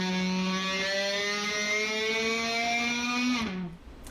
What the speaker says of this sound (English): playing the low E string on the F sharp note, 14th fret, and pulling up on it slowly, bending it, and then bowing it